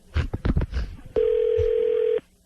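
Telephone line sound for a call being dialed: after a few seconds of speech, a steady, loud single-pitch dial tone holds for about a second and then stops.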